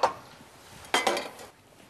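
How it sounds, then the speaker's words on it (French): Metal clinks and scrapes as a warmed mixture of grated coconut, milk and vanilla is strained through a sieve, with two short clatters close by in a quiet kitchen. "je passe ce mélange à travers ma passette"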